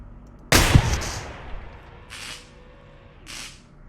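A single sharp, loud gunshot goes off in the video game Receiver 2 and rings out into a decaying tail, followed by two shorter, softer mechanical bursts.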